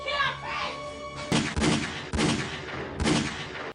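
Bursts of gunfire in a low-budget horror film, three or four loud volleys over rough background noise, following a sustained tonal sound at the start.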